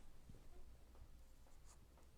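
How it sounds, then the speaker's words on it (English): An H pencil sketches on paper, making a soft, steady scratchy rasp of strokes close by, with a few faint lighter taps and scrapes throughout. "And I'm still sketching with my H pencil."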